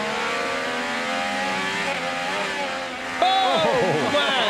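Onboard IndyCar race car engine from Santino Ferrucci's car at the Children's of Alabama Indy Grand Prix, a loud high-pitched wail that rises and falls through the gears, with a commentator speaking over it.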